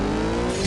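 Race car engine in the CSR 2 drag-racing game revving hard at the launch, a loud steady roar with a slight rising pitch over a short moment, no talk.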